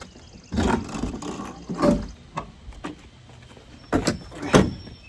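A broken door on an old abandoned food truck is shifted and pushed, producing bursts of scraping, clunking and rattling spread unevenly over several seconds, close and fairly loud, with no talking.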